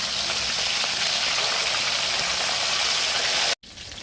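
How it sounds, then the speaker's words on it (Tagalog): Marinated milkfish (bangus) frying in a pan gives a steady, dense sizzle with crackle throughout, cut by a brief dropout near the end; no talk. "Akin na pong bibilingin ito pong piniprito ko po na bangus"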